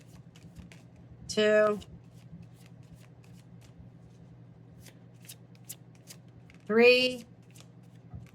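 Playing cards are dealt one by one in a card reading: two short, crisp card snaps several seconds apart, while a person speaks and counts.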